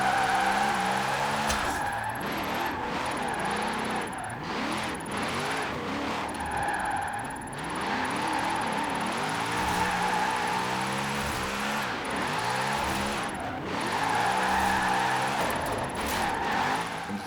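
A car drifts around Fortune Island in a racing video game, its engine droning loud and steady with repeated tyre squeals and revving surges throughout, no talking.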